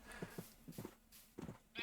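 Sheep bleating in the video game Minecraft: several short, quiet bleats in quick succession, close by, with no talking.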